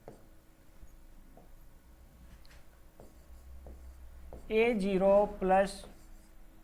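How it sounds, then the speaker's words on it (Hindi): Marker writing on a board while an equation is worked out, short faint scratchy strokes and ticks spread through the clip before a voice speaks over the end. "चलो मैं नीचे लिख देता हूं"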